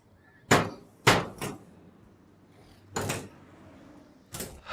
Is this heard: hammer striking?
yes